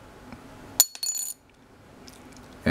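An Ibanez metal composite guitar pick dropped onto a hard surface, giving a sharp click followed by a short bright rattle as it settles, then near silence and a faint second tap at the end.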